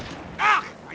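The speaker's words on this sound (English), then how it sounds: "Oh, another Calliope barrage," A single rushing, roaring burst from a Calliope rocket artillery barrage in a World War II strategy game, mid-distance and fairly loud, rising and fading within a second, followed by a short low thump.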